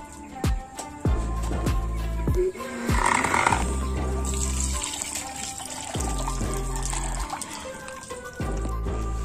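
Daphnia fish food for molly fry is rinsed in water, with splashing, trickling and pouring sounds close by, broken by intermittent handling knocks.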